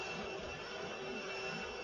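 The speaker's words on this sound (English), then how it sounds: "Is that the Hoover?" A Hoover vacuum cleaner drones steadily somewhere in the room, a constant broadband whoosh that holds even and unbroken throughout, with no voices over it.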